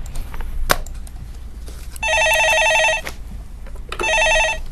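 A telephone rings for an incoming call on a Korean stock-market phone-in show: two loud, bright electronic trilling bursts, each about a second long, separated by a short gap over quiet studio background.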